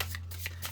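A deck of tarot cards is shuffled quietly up close, with a few soft riffling bursts between brief pauses.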